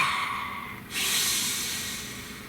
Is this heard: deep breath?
yes